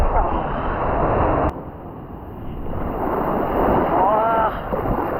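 Sea waves wash in at a crowded Chennai beach with a rushing, roaring surf and heavy wind buffeting the microphone, close and loud, and faint voices in the background.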